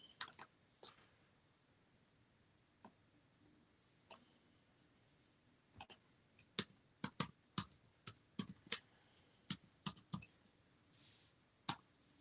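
Typing on a computer keyboard produces scattered sharp clicks, sparse at first and then bunching into quick irregular bursts, quiet and close with no voices.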